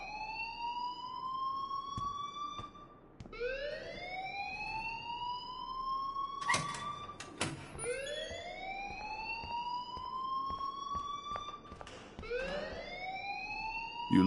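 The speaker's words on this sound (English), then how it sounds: "please turn off that alarm since that's your job" Alarm in the video game Life is Strange, a loud rising electronic whoop repeating every few seconds, broken by a couple of short sharp clanks.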